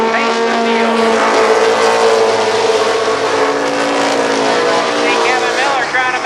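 NAMARS midget race cars race at Columbus Motor Speedway in 1995, their engines forming a loud, continuous high-pitched whine with shifting tones as they pass, under steady commentary.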